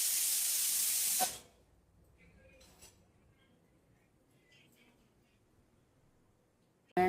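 Desi ghee heating in a kadhai on a gas stove gives a loud, steady hiss for about a second, then cuts out to a quiet room with a few faint clinks.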